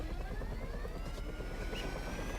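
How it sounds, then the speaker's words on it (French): A helicopter in the video game GTA 5 passes close by, a steady, loud rotor thrum with a whining engine tone that shifts slightly in pitch as it sweeps past. "Je crois que je vais me prendre l'hélico dans la gueule"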